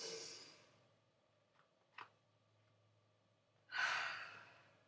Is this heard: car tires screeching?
no